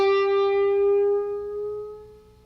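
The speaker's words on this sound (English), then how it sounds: "we're going to take our 12th fret on the G string and bend it" Single electric guitar note on the 12th fret of the G string bent slowly upward in a blues lick, clean and close, sustaining and fading over a couple of seconds.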